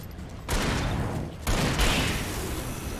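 Gunfire from the sheriff's shotgun in the video game Alan Wake, heavy blasts that kick in at about half a second and again near one and a half seconds, followed by sustained loud combat noise.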